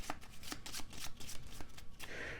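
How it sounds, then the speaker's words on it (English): Playing cards being shuffled for a board game, in a rapid series of crisp riffling bursts and taps, close and clear, with no voices. "So then we're going to shuffle that up."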